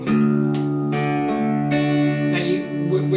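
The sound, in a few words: harp guitar low D string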